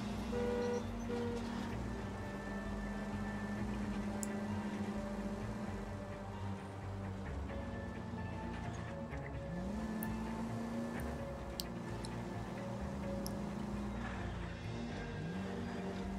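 A car drives through the streets of the 1940s Los Angeles setting in L.A. Noire, its engine droning and shifting pitch as it accelerates, with tires squealing now and then and a continuous moderate roar throughout.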